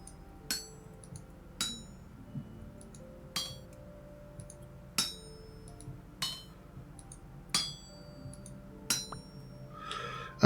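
Metal rings under a smithing hammer on an anvil in Vintage Story, nine or ten crisp clinking strikes spaced roughly a second apart, each with a short metallic ring, alone over a low steady background hum.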